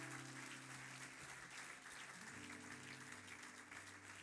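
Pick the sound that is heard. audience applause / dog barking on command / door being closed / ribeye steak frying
audience applause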